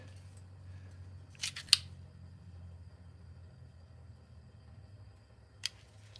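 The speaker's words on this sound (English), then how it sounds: "My razor blade is not cutting my latex" A dull razor blade tries to slice latex, giving a few short, sharp scraping snips: two close together, then one more after a pause. They sit over a faint low rumble, with no voices.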